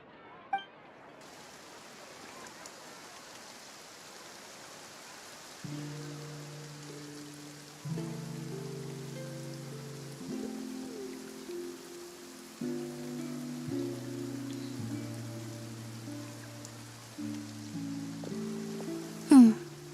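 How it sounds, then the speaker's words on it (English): Rain falls in Genshin Impact's Fontaine region as a steady, soft hiss that starts after a second and continues throughout, with gentle musical notes playing underneath. "Looks like rain."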